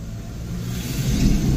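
A vehicle towing a camping trailer on a trip north, its engine a low, close rumble that builds steadily louder as it accelerates, with no voices.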